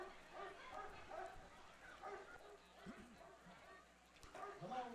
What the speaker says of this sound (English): Dogs really starting to bark.